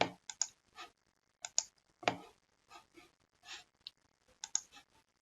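Keys tapped on a computer keyboard in short irregular clusters of clicks, quiet and close, with gaps between bursts and no talk.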